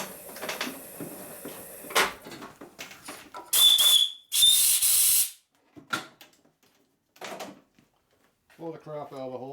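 Compressed air blasting out of a drilled hole in a 41mm motorcycle fork slider in a workshop, two loud hissing spray bursts in quick succession, with shorter puffs and clatter around them and someone talking at the end.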